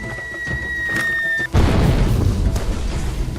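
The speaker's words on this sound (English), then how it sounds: "mortar fire was being unleashed on me as I made my advance" Mortar fire at an airport in a video game: a tonal whine cut off by a heavy boom, followed by rumbling blast noise and a second fainter impact.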